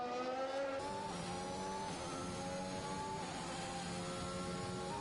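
A Formula 1 car in the F1 2021 video game at the Japan circuit drones at high revs with stepped gear changes and downshifts into a hairpin, a continuous loud engine whine with layered harmonics and no talk.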